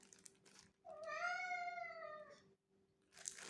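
A single drawn-out house cat meow rises and bends in pitch, close and clear in a quiet room, followed by a short rustle.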